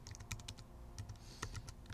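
Rapid bursts of keystrokes clatter on a computer keyboard during a live StarCraft casting stream, irregular clusters of clicks close to the mic over a low steady background hum.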